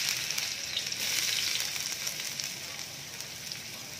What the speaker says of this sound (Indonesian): Sekarang saatnya kita tumis dulu bawang merah,